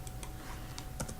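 Keystrokes tapping on a computer keyboard, a quick irregular run of clicks with one firmer press, close and fairly quiet over a low room hum.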